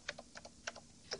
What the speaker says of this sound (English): I pound the keyboard